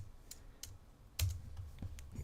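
Close computer keyboard typing: scattered soft key clicks with one sharper, louder press of the enter key near the middle, then a few more light taps.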